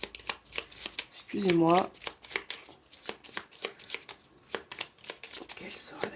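A deck of tarot cards is reshuffled, a run of quick crisp riffling flutters and taps close by, while someone speaks briefly in French over it.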